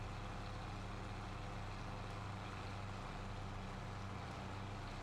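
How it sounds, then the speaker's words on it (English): A fake tractor in Farming Simulator 25 rumbles with a steady low engine drone while driving across a field, constant and moderately loud, with no speech over it. "as I drive my fake tractor to paint my field brown instead of white"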